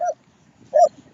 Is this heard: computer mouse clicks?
no